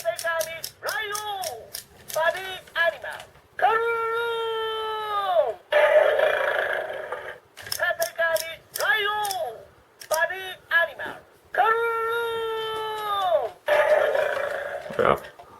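A Go Busters DX Tategami LiOh toy in lion mode plays electronic sound effects: repeated bursts of bright, sweeping tones and chimes separated by short pauses. Each burst is loud and close.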